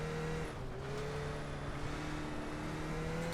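A Skip Barber race car engine in the iRacing game at Dirt USA Speedway drones at steady revs, a continuous close buzzing hum with slight pitch shifts, faint and alone.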